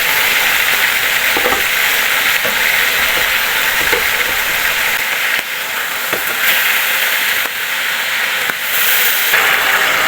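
Pork frying in oil in a covered kawali, a steady close sizzle and hiss lasting the whole time, with a few faint knocks and clicks.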